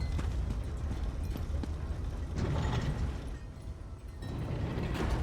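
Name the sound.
door mechanism opening in the video game Greymoor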